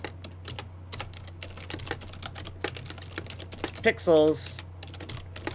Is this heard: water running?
no